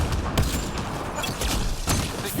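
Rapid bursts of video game gunfire crackle in dense, overlapping volleys, with a few sharper shots standing out over a constant wash of battle noise.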